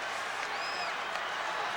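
Hockey arena crowd at a 1988 Whalers game roars in a steady, dense wash of cheering and applause that fills the whole moment, with a brief whistle-like tone rising above the noise.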